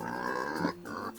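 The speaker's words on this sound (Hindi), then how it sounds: "सुअर, पेग।" A toy pig's recorded oink, a nasal grunting call in two quick bursts, near and clear with no talking over it.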